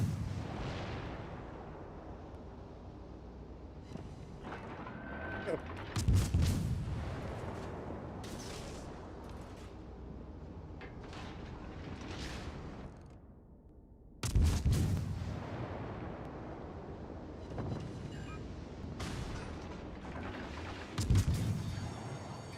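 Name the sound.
gunfire in a video game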